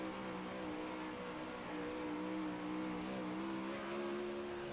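Onboard roar of the number 09 race car in a Monday Night Madness fall-season race, a steady, loud engine drone with rising and falling pitch as it accelerates off corners, close and continuous with no talk.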